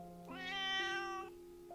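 A kitten in a video game gives one drawn-out, rising and falling meow, clear and fairly close, with no one speaking over it.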